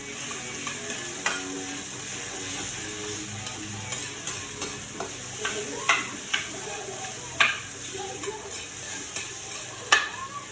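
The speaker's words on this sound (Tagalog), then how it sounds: "Paghaluin lang natin guys hanggang sa lumambot" Corned beef is stirred in a hot frying pan until soft, with a continuous sizzling hiss broken by irregular taps and scrapes of the utensil against the pan, close and moderately loud.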